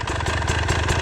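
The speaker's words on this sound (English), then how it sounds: "Do you guys notice there how smooth the bike rolls away as I do that?" An enduro dirt bike engine runs steadily as the bike rolls away on a hard enduro trail, a loud, close, lumpy mid-pitched thrum with a rattling pulse and no voices.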